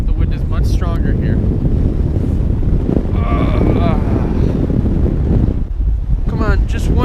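Strong wind blows outdoors by the water in downtown Amsterdam, roaring steadily and buffeting the microphone, with brief faint chirps or squeaks rising over the gusts.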